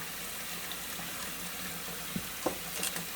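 Bellow parts from a Hoover Junior Dirtsearcher vacuum cleaner are washed in soapy water, with quiet sloshing and a few small splashes and knocks near the end.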